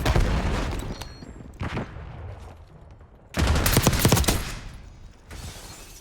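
Bursts of rapid gunfire in the Black Ops 6 shooter, with a short volley at the start, a brief burst near the middle and a longer, louder sustained barrage later, separated by quieter stretches.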